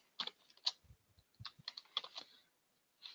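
Computer keyboard typing in an XML editor, irregular bursts of crisp close key clicks with brief pauses, a final lone tap after a short gap, quiet and without talk.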